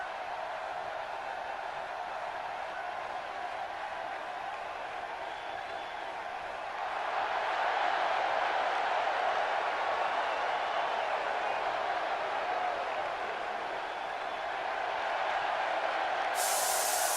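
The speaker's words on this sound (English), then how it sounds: "the crowd is going nuts for Cassius Ohno" A wrestling crowd keeps up a steady roar of cheering for a wrestler's entrance, a continuous wash of massed voices that swells louder partway through and holds, with no distinct talking over it.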